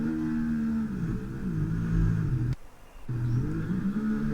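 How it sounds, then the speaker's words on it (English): A Ferrari racing car entering the pit lane at Abu Dhabi, with a loud, close engine drone whose pitch rises and falls, briefly cut out near the middle before the tone returns. "There is a Ferrari entering the pit lane."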